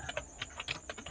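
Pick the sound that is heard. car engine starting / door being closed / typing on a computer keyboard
typing on a computer keyboard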